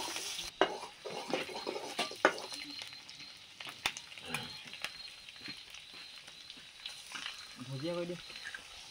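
Scrambled eggs with onion and chili stirred and frying in a pan, with a continuous low sizzle, clinks of a utensil against the pan and scattered scraping, close by, with no talking.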